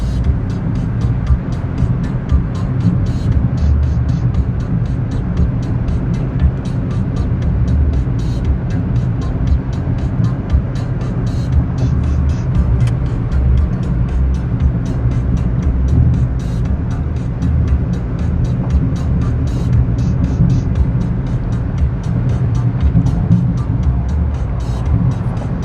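Steady interior road noise from a moving car, a constant low rumble of tires and engine droning loud and unbroken for the whole stretch with no talking.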